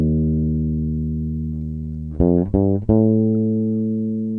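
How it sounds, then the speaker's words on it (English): An electric bass sustains a low note, then a second note a minor third away is plucked a few times, ringing steadily and clean, alone with no talk. "you would hear a minor 3rd"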